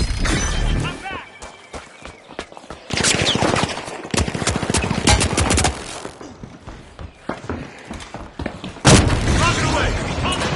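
Loud bursts of gunfire, booms and a rocket launcher shot ring out in the first-person shooter The Finals, coming in sharp clusters of blasts and crackling impacts, with voices talking over the action.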